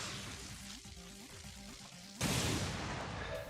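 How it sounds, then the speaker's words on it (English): A concussion grenade goes off in the video game XCOM 2, a sudden loud broadband blast near the end that stays dense and roaring after game music and effects. "This concussion grenade can actually add on top of this stun."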